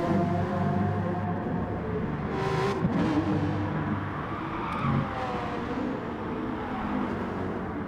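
Race cars at speed on the Nurburgring GP circuit in the video game GT Sport, a steady, loud engine drone with shifting pitch as cars rev and pass, continuous throughout without talk.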